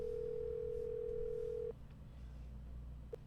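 A steady telephone dial tone from the Nancy Drew game The Captive Curse hums alone for under two seconds, then cuts off, with a faint beep near the end.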